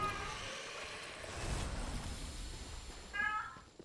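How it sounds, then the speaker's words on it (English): A pet cat gives a short meow near the end, faint under quiet room noise with soft speech earlier. "My cat is losing her mind."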